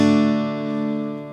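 A single strummed acoustic guitar chord, played without the open A string, rings out and slowly fades, sounding bright with little low bass.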